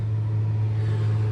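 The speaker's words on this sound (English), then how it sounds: "the buzzing you've been hearing is my fan that's sitting on the floor, the passenger side of the car" An electric fan sits on the passenger-side floor of a 2011 Hyundai Elantra and gives off a steady, loud low hum that runs unbroken the whole time, with no voices.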